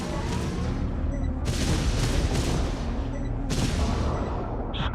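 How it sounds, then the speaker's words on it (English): Little artillery cannons firing in the space strategy game Homeworld 3, a loud bank of rumbling booms in two or three heavy volleys over a dense roaring bed, ending with a brief electronic blip, no voices. "look, they're little artillery cannons"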